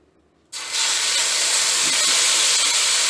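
Marinated beef hits hot oil in a wok with a sudden loud burst of sizzling that starts after a brief quiet moment and holds as a steady, intense hiss.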